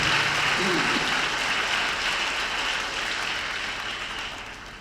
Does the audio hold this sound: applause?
yes